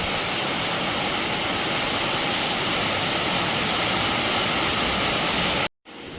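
Heavy rain pours in a dense, steady roar that stays loud and unbroken, then cuts out abruptly for a moment near the end before resuming.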